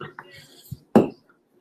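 Beer snifter glasses are set out and handled, giving a few soft knocks and then one loud, close clink of glass that fades quickly.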